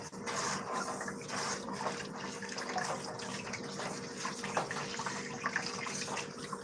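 A tap with its washer missing gushes at full force, a loud, steady rush of water running continuously for several seconds with small splashes.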